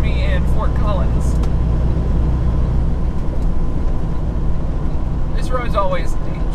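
A car cruises along highway 287 between Laramie and Fort Collins, its steady loud road and engine rumble filling the cabin, with brief bits of voice at the start and near the end.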